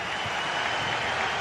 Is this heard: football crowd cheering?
yes